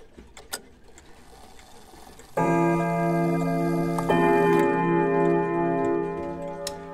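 A clock mechanism whirs and ticks, first faintly, then a loud sustained run of steady tones and rattling gears that continues to the end.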